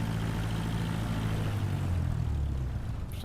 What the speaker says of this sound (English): This Cessna doesn't have much power to start moving it.